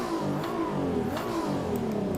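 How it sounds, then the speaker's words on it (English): Modified Nissan 370Z engine revving in a racing video game, a loud sustained engine drone climbing through short gears with rising pitch sweeps and brief shift breaks. "This is a mean engine,"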